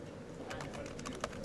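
Fast, uneven typing on a computer keyboard, a quick run of clicky keystrokes at close range with a couple of sharper key hits near the end and no talk.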